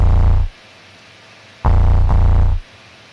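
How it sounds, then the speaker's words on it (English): Pure B flat sine wave sampled into a Casio FZ-1 sampler, heard as two steady humming tones with a gap of hiss between them, the second tone briefly pulsing, loud and alone. "So that's a B flat sine wave."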